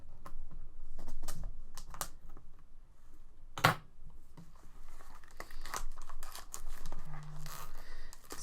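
Cardfight Vanguard card box packaging is cut and torn open, with crinkling plastic, scattered sharp clicks and one loud snap midway, close-up and irregular, without speech.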